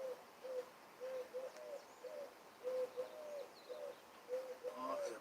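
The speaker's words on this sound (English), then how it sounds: "oh, it's a pigeon." A large pigeon cooing in a repeated, soft rhythmic pattern of low hooting notes, moderately close against a faint background.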